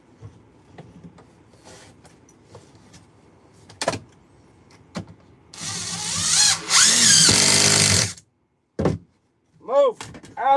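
At a toilet install, a power drill drives screws in two loud, sustained whirring bursts, with the motor speed changing partway through. Scattered thumps and tool handling come before them, and a couple of short whine bursts follow.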